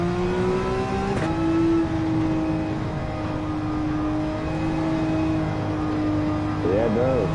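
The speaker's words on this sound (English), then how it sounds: "I think the Porsche just outbrakes everything." A Porsche race car engine drones steadily, its pitch sliding slowly downward under braking, then a brief warbling shift near the end, loud and close with talk in the background.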